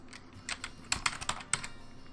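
Short bursts of keystrokes on a computer keyboard, typing text for a laser-cutting design. The clicks come close and fairly loud in uneven clusters, with a few sharper key strikes standing out, and no voices.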